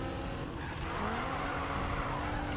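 A car in Need for Speed (2015) skids through a U-turn, engine roaring steadily with a rising whine and a drawn-out tire squeal, loud and continuous.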